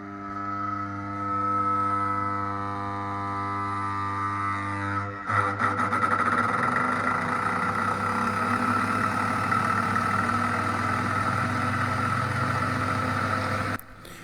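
An electric motor spins up through a soft starter, a steady hum with droning harmonics that shifts after about five seconds into a louder, broadband running roar, continuous to the end with a brief drop at the close.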